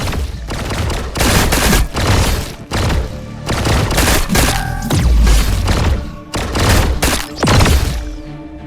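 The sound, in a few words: gunfire in a video game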